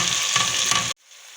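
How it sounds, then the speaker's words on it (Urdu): Capsicum and cabbage fry in a hot pan while making macaroni: a loud, steady sizzle that cuts off abruptly, leaving a faint hiss. "ابھی ہم لوگ شملہ مرچ اور بند گوبھی ڈال دیتے ہیں۔"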